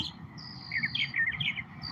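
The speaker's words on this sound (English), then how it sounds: "I got the red cardinal birds kind of just running around" Red cardinals chirp outdoors in a run of quick, high, sweet tweets and short whistled phrases, moderately close over a soft low background hum.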